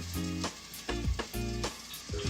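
Butter sizzles and fries in a pan while eggs cook for a scrambled egg dish, a steady close crackle broken by a few short clattering stirring bursts.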